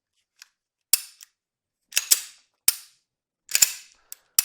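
A Walther PK380 pistol is dry-fired, its trigger and slide cycling in a series of sharp metallic clicks and clacks, some single and some in quick pairs, crisp and close with silence between.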